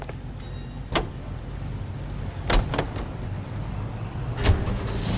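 A car in the video game L.A. Noire, heard as a steady low vehicle rumble close by, with a few short clunks and whooshes like a door or passing traffic, no talking.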